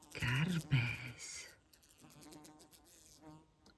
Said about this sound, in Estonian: Kärbes.